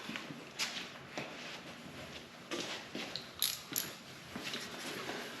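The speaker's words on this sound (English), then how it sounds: "Then you can grab the ratchet." A ratchet turns during a car oil change, giving repeated mechanical clicking and ratcheting bursts in uneven spurts at close range, with faint metallic taps and no speech.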